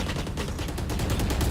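Rapid bursts of gunfire in a video game, loud and close, crackle in quick overlapping volleys for the whole moment.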